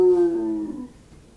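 A voice imitates a coyote howling far out in the desert at night: one sustained, steady howl that fades away after about a second, with no other sounds.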